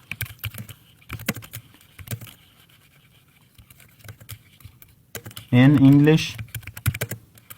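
Computer keyboard typing while writing in MS Word: bursts of quick clicky keystrokes with pauses between them, close and fairly soft, broken once by a brief spoken phrase.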